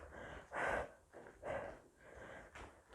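Three forceful exhalations from someone doing resistance band Pilates, each a breathy whoosh about a second apart, close and fairly loud with quiet pauses between.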